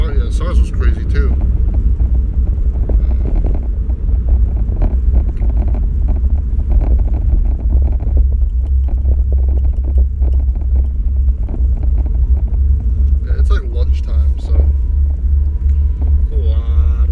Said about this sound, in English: a lot of traffic right now